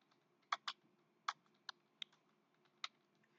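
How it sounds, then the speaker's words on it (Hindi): Typing on a computer keyboard, a handful of crisp, close key clicks at irregular intervals, some in quick pairs, over a quiet background hum with no voices. "तुम टाइपिंग करिकि लिखि परिबो कीबोर्ड जरिया रे"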